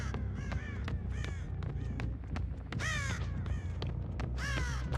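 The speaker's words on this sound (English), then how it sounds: "Goddamn birds." Crows caw repeatedly in the Dead by Daylight video game, harsh calls coming in bursts of two or three over a steady low ambient rumble, loud and close with no talking.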